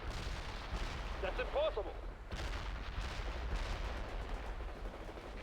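Rocket launchers and gunfire in the World in Conflict battle game: continuous heavy booming and crackling bursts with dense explosive rumble, a voice speaking briefly over the barrage.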